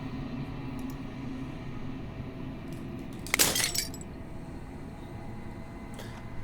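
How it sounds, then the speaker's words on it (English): Glass shatters in the video game Slay the Princess: one brief, bright crash with a scattering tail midway, rising over a steady low ambient drone. "As the final fragment of glass shatters"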